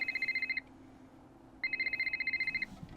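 A telephone rings in the Nancy Drew: The Ghost of Thornton Hall video game, two electronic trilling rings separated by a short pause, clear and fairly loud.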